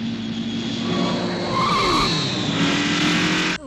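Tires squeal loudly in a sustained skid as a car in a Death Race 2000 trailer slides under engine roar, the screech steady and close for about three and a half seconds before cutting off abruptly.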